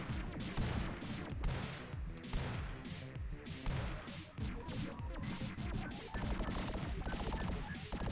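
Uzi submachine gun fire in a video game, rapid bursts of shots crackling over a dense, busy mix of music and effects, steady and loud throughout.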